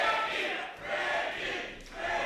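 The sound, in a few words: wrestling crowd cheering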